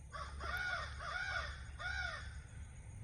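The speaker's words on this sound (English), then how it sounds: "And that's the crow." A crow caws three times in a steady sequence, harsh and moderately distant, against a quiet outdoor background with a low steady hum.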